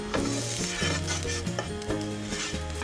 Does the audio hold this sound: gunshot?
no